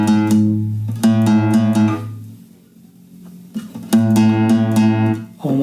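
A single guitar string plucked and tuned by ear toward an A note, sounding in two sustained ringing notes with a quiet gap between them, close and clear with no talking.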